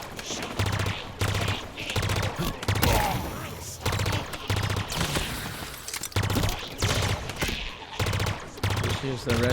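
Rapid automatic gunfire in Halo Infinite, repeated bursts of close, loud shots with brief gaps between them, mixed with other game effects.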